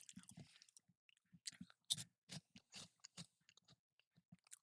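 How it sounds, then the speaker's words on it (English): Someone munches potato chips close to the microphone during a movie watchalong, giving a string of crisp, irregular crunches with quiet gaps between bites. "I hope my chewing isn't too fucking loud"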